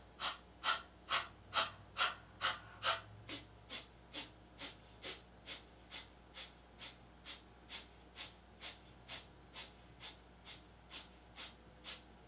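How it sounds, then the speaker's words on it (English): Breath of fire yoga breathing in an energizing yoga class: a long, even run of rapid, forceful nasal exhalations, about two per second, close and clear. The first few are louder, and the rest settle into a steady pulse. "So, coming into breath of fire, inhaling deeply, allowing the eyes to close."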